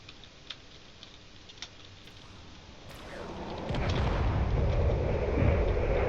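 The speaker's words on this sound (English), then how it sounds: "It's definitely trying to deflect all these missiles by firing its own" Missiles launch and detonate during a drone battle in the space combat game Drone Wars, a low rumbling barrage that swells into sustained loud booming explosions over the last few seconds, with scattered sharp ticks early on.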